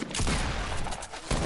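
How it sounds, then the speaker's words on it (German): Gunfire in the video game Fortnite, a dense, sustained volley of shots that rattles on steadily, breaks off briefly near the end and then resumes, loud and close. "jetzt wird noch weiter geschossen"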